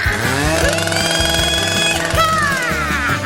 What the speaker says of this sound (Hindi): मुझे इसे काटने के लिए किसी विशेष औजार की आवश्यकता होगी, जैसे कि यह आरी। चलो अब काटती हूँ।